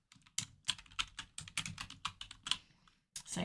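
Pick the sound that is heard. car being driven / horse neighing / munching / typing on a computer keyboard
typing on a computer keyboard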